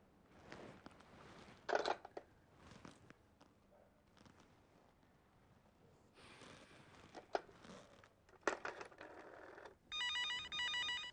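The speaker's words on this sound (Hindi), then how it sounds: "इस वक्त किसका फोन हो सकता है, आनंदी ही ना हो।" A telephone rings near the end, an electronic trill following scattered rustling and clattering noises.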